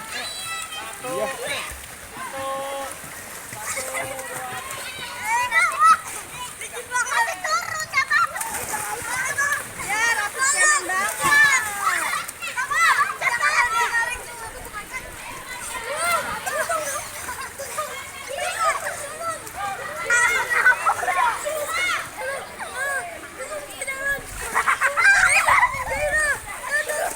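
Children splash and play in a swimming pool at a tourist spot, with repeated splashes and sloshing water under lively chatter and shouting kids' voices close by throughout.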